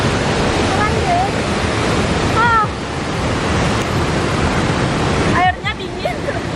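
Water rushing at Tegenungan waterfall in Bali, a loud, steady roar that fills the whole scene, with brief voices heard faintly over it.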